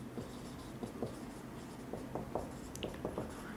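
Chalk or marker writing on a classroom board during a civil engineering lecture, a series of quick scratchy strokes and taps in irregular bursts, close and fairly quiet, with no speech.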